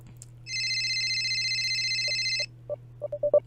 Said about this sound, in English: Holding my breath, I pull out my phone, taking a quick glance to see who was calling.